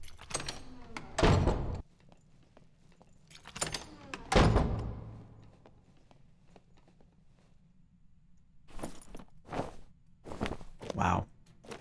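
Door in the video game Dark and Darker swinging shut with a few heavy thuds and scrapes among footsteps, separated by quiet gaps, moderately close.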